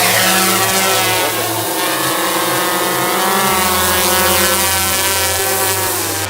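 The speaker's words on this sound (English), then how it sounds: "We got a drone in the air." A drone hovers and flies over a park near a temple in Nara, its loud, steady motor buzz close and continuous, the pitch stepping up and down as the rotors change speed, with no voices.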